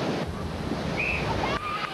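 Ocean surf pounding the beach at Sint Maarten during a strength-team competition, a steady loud wash of breaking waves mixed with wind buffeting the microphone, and no talk.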